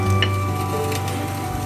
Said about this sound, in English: So now we will be roasting this roti on the tawa.